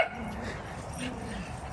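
Dogs out on a walk give short yips and whimpers close by, brief vocal bursts over outdoor ambience, with a voice faintly present in the background.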